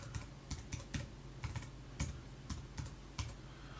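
Keys clatter on a computer keyboard in a series of crisp, separate clicks at an uneven pace, close and fairly quiet, with no voices.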